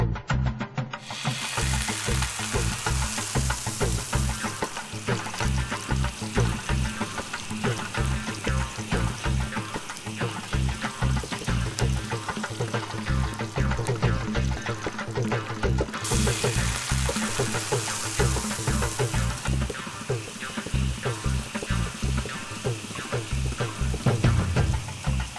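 Pieces of batter sizzle and crackle in hot oil for deep frying, a dense, continuous bubbling hiss that holds strong throughout, with faint stirring underneath.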